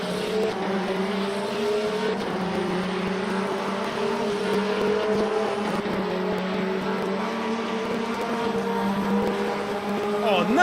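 Race car engines drone loudly and continuously in Le Mans Ultimate at Fuji, with a red Ferrari GTE car in the field, the tones rising and falling through gear changes, with no talking.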